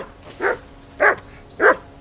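A dog barks three times at an even pace in Kingdom Come Deliverance 2, loud and close, each bark short and gruff with low hum in the background.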